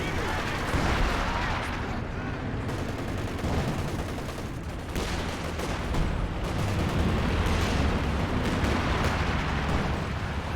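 Anti-aircraft guns fire at aircraft during a Company of Heroes 2 battle, dense rapid booming bursts and explosions over a continuous din of combat.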